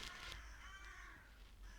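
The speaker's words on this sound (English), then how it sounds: "Big bird fight going on," Crows caw in a noisy squabble, harsh repeated calls rising near the start and then trailing into scattered, fainter caws over steady background noise.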